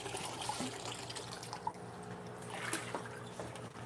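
Water fills a large aquarium display tank, a steady liquid rush with small splashes and trickles, moderately close and fairly even throughout, with a faint low hum beneath.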